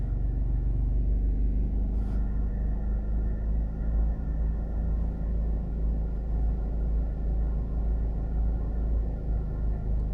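A car drives along a road in St. Catherine parish, Jamaica, near the Bog Walk Gorge, heading toward the north coast, with a steady, loud engine and tyre rumble throughout and no talking.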